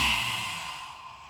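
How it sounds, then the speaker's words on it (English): A long, deep inhalation during a morning qigong session, heard alone as a soft airy rush that is strongest at the start and slowly fades over about a second. "take a deep breath"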